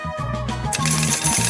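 Coins drop and clatter together in a short metallic jingle, close and fairly loud, ringing and settling for a second or so in a kitchen setting.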